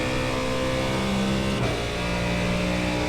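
A Mustang GT3 car in the iRacing game at Bathurst, its engine holding a high, steady rev on a fast straight, loud and continuous with a brief gear-change dip midway, no talk.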